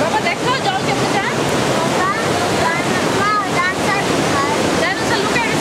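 Water rushing at Bushkill Falls in Pennsylvania, a loud, continuous roar close to the microphone with some wind buffeting and faint high voices chirping through the noise.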